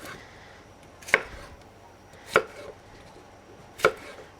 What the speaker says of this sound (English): I'm just taking the ends off and then dicing these up a bit